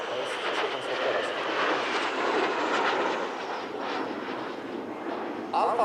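Alpha Jet flying at the Radom airshow, a steady broadband jet roar that swells and holds throughout, fairly loud and sustained, with a brief louder burst near the end.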